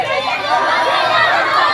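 A dense crowd of protesting college students chatters and shouts all at once, a loud, continuous wash of overlapping voices close by.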